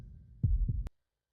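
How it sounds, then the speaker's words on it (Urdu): Two heavy, muffled heartbeat thumps in a horror story set in a graveyard, close and booming, ending abruptly in silence. "اس کا دل زور زور سے دھڑکنے لگا۔"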